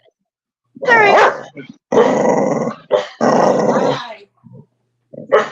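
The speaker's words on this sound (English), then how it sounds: "That's a big dog." A big dog named Bam growls and barks in several loud, rough bursts, heard close up during a live video call with people talking over it.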